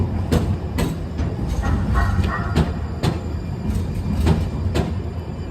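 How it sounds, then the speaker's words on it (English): A slow, noisy train rolls past in a camp setting, its wheels knocking in a steady clickety-clack rhythm over a loud, continuous rumble. "they always these damn trains going hella slow as I'm trying to bring out the word, or they'll stop and make all this noise"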